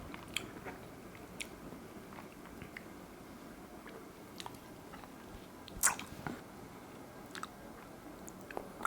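Someone bites into and chews a spring roll close to the mic, with a handful of soft crunchy bites and squishy mastication sounds over a quiet background, one sharper crunch standing out midway.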